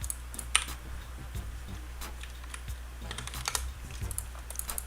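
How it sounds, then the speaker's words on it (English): Computer keyboard keys pressed in scattered, irregular taps and short clusters, close and fairly quiet over a steady low hum, with no talking. "Oh, it's the delete key, because every keyboard has one of those."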